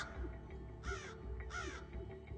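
Crows give several loud, harsh caws in quick succession, close by, with a quieter bird call between them and low background rumble.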